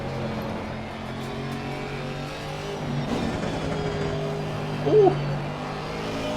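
A GT race car engine in Assetto Corsa Competizione drones steadily through corners, rising and falling with throttle, loud and close, with a brief exclamation from a voice near the end.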